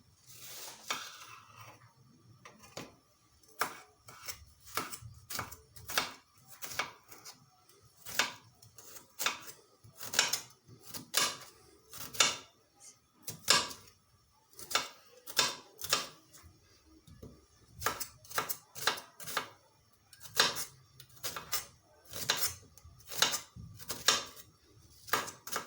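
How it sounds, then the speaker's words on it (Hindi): Onion finely chopped with a knife on a cutting board while preparing chicken feet, a steady run of crisp, close taps in quick bursts with short pauses. "प्याज को हम बारीक काट लेंगे।"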